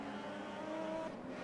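Race car from Bernd Schneider's 1995 championship season, a Mercedes, lapping a circuit in a sim racing game, with a steady, loud engine drone and a sustained tonal whine held throughout.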